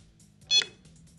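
A quiz-show buzzer gives one short, sharp electronic beep as it is pressed during a buzzer round, clear against a quiet room.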